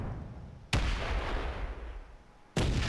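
Orbital bombardment rounds slam into a base in Space Engineers, two heavy booming impacts about two seconds apart, each a sudden loud blast followed by a long rumbling roar that fades slowly.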